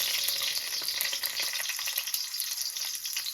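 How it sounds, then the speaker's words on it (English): Potato wedges frying in olive oil in a pan, with a steady, dense crackling sizzle that continues evenly throughout and no voices over it. "Just fry them in olive oil"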